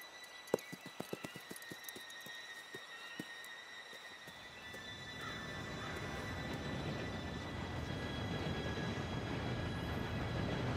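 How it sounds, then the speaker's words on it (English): A train arrives in Red Dead Redemption 2, its rumble building steadily from a low roar after a run of crisp horse hoof clops, growing louder and closer to the end. "Train should be here any minute now."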